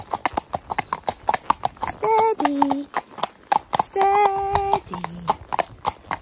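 A four-year-old horse's hooves clip-clop in a steady, even rhythm at close range during a training ride, broken by a couple of whinnies, with a rider talking calmly over the top.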